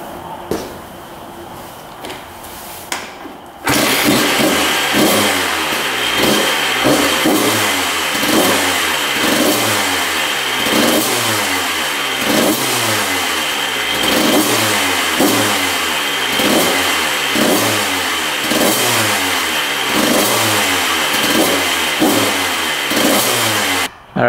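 The 1994 Honda CR125 two-stroke dirt bike engine fires up after a short quiet start and then revs hard, again and again, in a steady rhythm, loud and close, for about twenty seconds with no talking.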